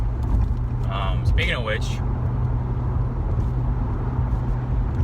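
Car cruising on the 405 freeway, a steady low road and engine rumble filling the whole stretch beneath someone talking.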